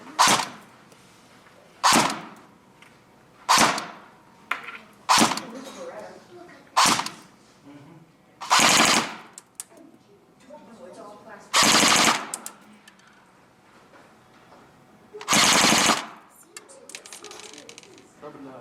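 A KAC Lancer Tactical PDW airsoft gun fires at an outdoor range in about nine sharp bursts of rapid full-auto shots, each burst a second or so long, with quiet pauses and faint shuffling between them.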